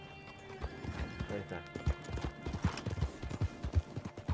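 Horse in Red Dead Redemption 2 walking with clip-clopping hooves that start sparse and grow into a quicker steady gait, with a whinny along the way, under a man's brief Spanish remark.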